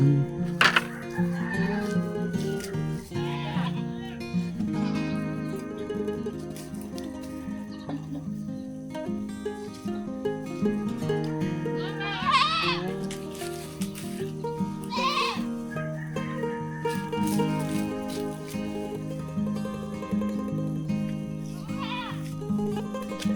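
Sheep, two of them pregnant, bleat repeatedly at a farm in the Philippines, wavering calls rising over a steady mix of goats and chickens clucking nearby.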